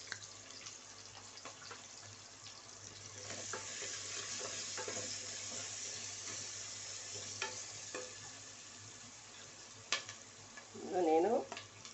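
Onions fry with salt in a pan for a potato and green peas pulav, a faint, even sizzle with light stirring, then a brief clatter near the end.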